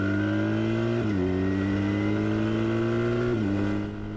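A BMW R 1300 GSA motorcycle accelerates in dynamic pro mode, its engine droning loud and steady with two brief dips at gear changes, close and continuous.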